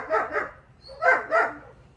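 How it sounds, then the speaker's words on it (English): A family dog barks at feet bouncing on a backyard trampoline, four sharp barks in two quick pairs, close and fairly loud, with no talking. "the dog loves to go under the trampoline and bark at their feet as they're bouncing on top of them"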